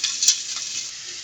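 A steak sizzles loudly in a hot pan just after being flipped, a bright steady hiss with a brief scrape of a utensil near the start.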